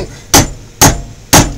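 Three sharp, evenly spaced hammer blows ring out on metal flattened over an anvil, each a loud close impact with a brief metallic ring fading before the next.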